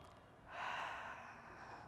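A single long inhale through the nose during yoga crow pose practice, a soft airy breath swelling after a brief pause and then easing off, close and quiet.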